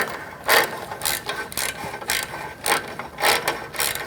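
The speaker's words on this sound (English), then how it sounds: "use a ratchet to help it continue to go in" A hand ratchet works a bolt while a starter is replaced on a Mercedes-Benz C-class V6, giving repeated bursts of rapid metallic clicking in an uneven rhythm, close and fairly loud, with no voices.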